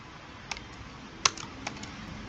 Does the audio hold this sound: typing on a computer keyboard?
yes